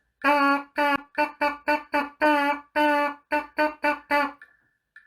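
A tenor trombone player buzzes their lips on the note E in a rhythm exercise, producing about a dozen short and held buzzy tones in a lively pattern, close and clear, with silence after.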